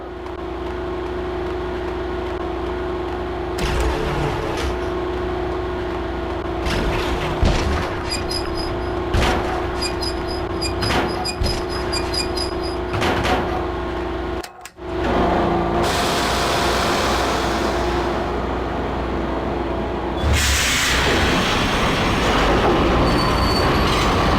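A subway train in the Max Payne video game powers up and starts moving, with a steady electrical hum, clanks, wheel squeal and rumbling, a sharp break midway, then a louder rushing roar as it gets underway.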